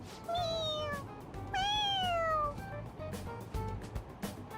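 Morgana, the cat from the video game Persona 5 Royal, lets out two clear rising-and-falling meows, close and distinct over soft game background sound.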